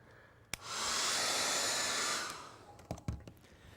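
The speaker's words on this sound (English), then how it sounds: "Now, I'm going to blow dry that one." A hair dryer blow-dries paint on a clay Cape buffalo head, switching on with a click, blowing in a steady loud whoosh for about two seconds, then winding down, followed by a few clicks and handling knocks.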